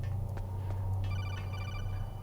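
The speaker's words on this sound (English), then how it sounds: "Or we can get interrupted by a phone call." A codec phone call rings in Metal Gear Solid: The Twin Snakes, repeated electronic trilling chirps over a steady low game hum, with faint clicks before the ringing starts.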